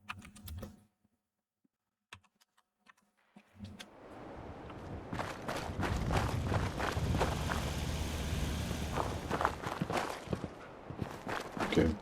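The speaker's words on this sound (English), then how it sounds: "I'm hearing footsteps." Characters walk around a shipping settlement in Fallout 4, their footsteps tapping in a quick, irregular, clicky patter that starts after a near-silent pause and keeps going at a steady level.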